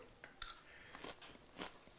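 Crispy mealworm insect snacks crunch between the teeth in several faint, close bites and chews, soft crackles spread irregularly through a quiet moment with no speech.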